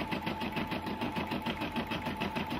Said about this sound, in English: Here's some of the nice things you could make with the Brother embroidery machine.